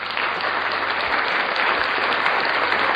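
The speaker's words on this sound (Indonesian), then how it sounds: "kasih tepuk tangan dulu." Applause from a classroom of fourth-grade pupils, a steady dense patter of clapping that holds evenly for the whole stretch, fairly loud and without talk.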